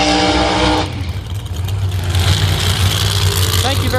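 A Pro Mod drag racing car fitted with an Iron Man centrifugal supercharger roars loudly down the track, its engine a dense, sustained blare with a shifting pitch that swamps the whole stretch, joined by rumbling crowd and track noise.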